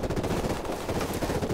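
Rapid automatic gunfire from a video game, a continuous rattling stream of shots lasting over a second, loud and close with no talking over it.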